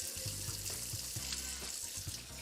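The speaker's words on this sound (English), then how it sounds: "So we're just gonna pour that off after it's filled up." Starchy rinse water poured off rice in a bowl at a sink, a continuous close splashing flow with bubbling gurgles, no voices.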